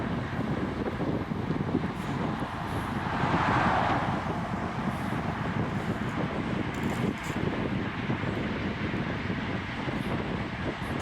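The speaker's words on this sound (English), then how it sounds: "You can hear that wind." Steady wind rushing past while cycling on a road with a group, a continuous broadband roar that swells briefly midway, with no talking.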